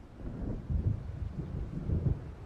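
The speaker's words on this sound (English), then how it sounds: "It seems there's a storm coming." Low rolling thunder from a storm building over Cauldron Lake in Alan Wake, a deep continuous rumble that swells and ebbs with no talk over it.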